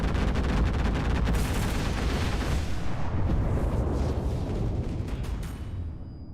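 Aircraft strafing run in the WW2 game Enlisted: a dense roar of machine-gun fire and explosions, loud and continuous, slowly fading toward the end.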